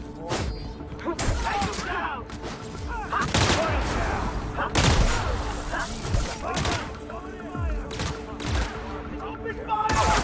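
Rapid bursts of gunfire and heavy thuds in the sci-fi video game The Outer Worlds during a battle on Gorgon, loud and repeated over about ten seconds, with voices mixed in among the shots.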